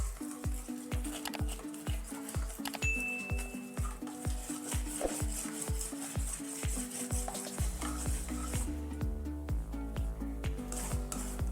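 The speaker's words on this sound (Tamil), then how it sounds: "அந்த அளவுக்கு நம்ம கிளறிக்கிட்டே இருக்கணும்." Thick jamun (Java plum) fruit halwa is stirred in a pan over a low flame, with rhythmic scraping strokes about twice a second and a soft bubbling sizzle underneath.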